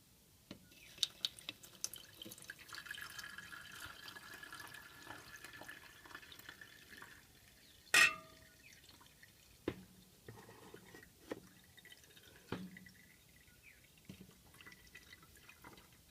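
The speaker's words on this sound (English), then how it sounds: "now the next step is to pour our contents into our filter" Liquid poured into a filter on a float gravity separator for microplastics trickles and drips quietly for a long stretch, with a few sharper splashes and one louder splash midway.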